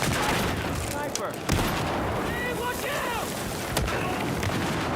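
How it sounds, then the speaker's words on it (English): A frag grenade blast in a military shooter game lands amid continuous roaring battle noise, with a sharp boom standing out near the start and another later, while distant gunfire and rumble carry throughout. "That was a full-on frag."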